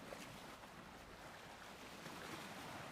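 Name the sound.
calming ocean waves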